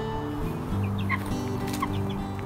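Chickens cluck softly close by in a greenhouse, with a low continuous hum underneath and a few short, higher chirps scattered throughout.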